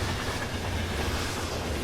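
A train rumbling across a bridge directly overhead, a dense, steady, loud roar filling the whole moment without pause.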